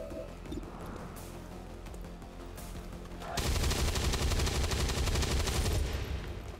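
Weapon fire in the turn-based tactics game XCOM 2 plays as a dense, loud barrage of rapid shots that erupts midway through a busy game soundscape and keeps going without a break.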